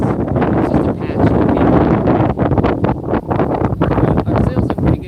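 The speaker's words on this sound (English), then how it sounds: "walking up forward, here's the wind" Strong wind buffets the deck of a sailboat under way, a loud, continuous gusting roar against the microphone with rustling and flapping in the rigging and sail, steady throughout without a break.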